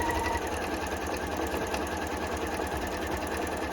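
Sewing machine stitching an elastic-waist skirt's waistband, a steady close whirring run of needle strokes, alone and unbroken.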